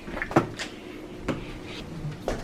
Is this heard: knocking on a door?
yes